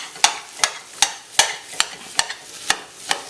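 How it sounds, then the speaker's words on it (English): Corned beef sizzles in its own melting fat in a pan, with a steady frying hiss broken by regular, sharp scraping taps as it is broken up. "you can hear it by the sizzling, and you can probably see the fat melting on the bottom here"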